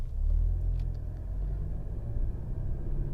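A 2024 Mercedes C300 4Matic sedan on the road gives a steady low engine and road rumble from inside the cabin, with no speech.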